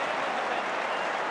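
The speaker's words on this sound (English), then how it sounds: "A massive crowd here at the MCG for Friday night football." A massive crowd at the MCG for Friday night AFL football, Carlton against Essendon, roaring and applauding in a dense, steady, loud wash of noise.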